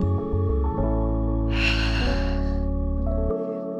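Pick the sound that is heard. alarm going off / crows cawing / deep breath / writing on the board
deep breath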